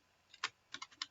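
Keystrokes on a computer keyboard while entering a label in a Visual Basic calculator program: a short burst of sharp clicks, one louder tap then a quick run of four or five, close and distinct with no talk.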